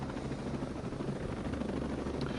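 Helicopter rotor and engine drone heard from a distance during a training course demonstration, a steady low rumble with constant level throughout.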